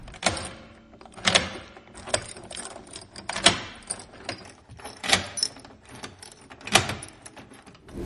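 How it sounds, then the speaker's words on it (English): Metal keys jangle and scrape against a locked door lock in repeated bursts, several distinct rattling attempts spaced a second or so apart, close and fairly quiet with no voices. "she tried to open a locked door using different keys"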